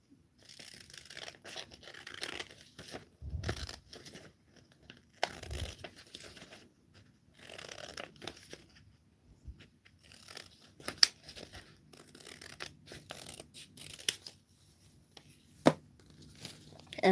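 Scissors cutting paper to make tabs for a paper dragon, heard as faint, irregular snips and crinkling rustles scattered across the stretch, with short quiet gaps and a few sharper clicks, close by.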